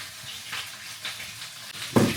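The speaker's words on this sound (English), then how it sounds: "And my beef is still cooking." Ground beef frying in a pan gives a steady, fairly quiet sizzle with soft crackles and a louder flare of spattering near the end, with no voices.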